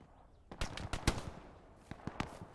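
Gunfire in the online war shooter Hell Let Loose: a short machine-gun burst, then scattered single rifle shots and a second quick volley, moderately distant and with no voices.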